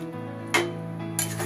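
Chicken and yogurt being stirred gently in a cooking pan over low gas, two sharp utensil clinks against the pan over a faint steady hum.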